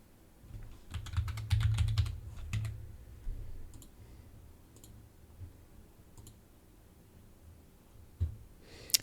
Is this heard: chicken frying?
no